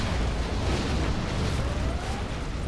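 Scud Storm missiles exploding in Command & Conquer Generals Zero Hour, a dense, continuous roar of overlapping blasts with heavy low rumble throughout, loud and steady.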